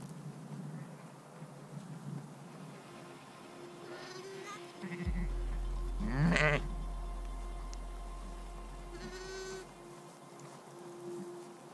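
Sheep bleating in the video game Quern, a few wavering bleats around the middle, the loudest near halfway, over a low steady game ambience and hum.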